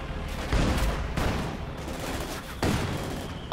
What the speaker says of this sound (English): They're bombing my guys.